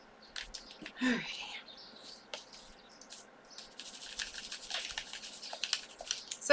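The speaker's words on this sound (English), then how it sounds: "So again, this is just a soft toothbrush, a birchwood stick." A soft toothbrush scrubs dirt from a video game controller in quiet, scratchy bursts, close and faint, with a few short strokes early and a denser run of rapid brushing toward the end.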